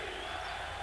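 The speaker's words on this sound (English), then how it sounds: "And the crowd very much into this game" A basketball arena crowd at a playoff game between Philadelphia and Toronto roars in a steady, dense wash of cheering and yelling that holds at full strength throughout without any break.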